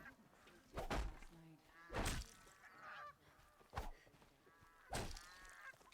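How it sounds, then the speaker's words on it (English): A duck from the game Horizon Zero Dawn, livestock in a town, gives several short honking quacks at intervals, each broken up by sharp thunking impacts, fairly faint overall. "it's somebody's duck"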